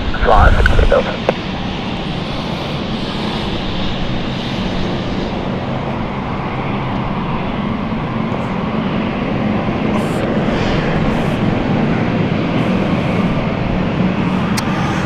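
A Swiss airliner lands at London City Airport, its broad, steady engine and rushing roar filling the air continuously, loud and sustained from a short distance.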